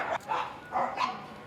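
Dogs at an abandoned-animal shelter bark in several short yaps and whimpers, moderately close, with a pause between bursts and a faint voice in the background.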